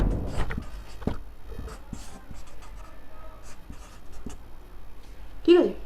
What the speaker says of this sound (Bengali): আমি জাস্ট জিবরেলিনটা লিখছি